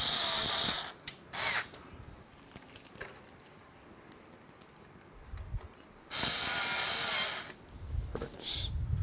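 Case screws are driven in while a PC is assembled, heard as close, bursty rattling of a ratcheting screwdriver or small driver in several separate runs, with quieter handling noises between them.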